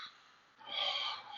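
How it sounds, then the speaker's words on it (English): A single slow exhale through one nostril during a calming breathing exercise: a soft, close, airy rush that swells midway and holds steady to the end. "On the next exhale, exhale through the opposite nostril"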